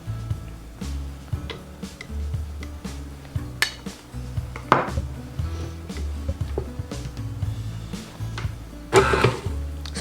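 Raisin scone dough being mixed by hand in a bowl, with a run of irregular knocks, scrapes and clinks of utensil against the bowl, close and moderately loud, no talking.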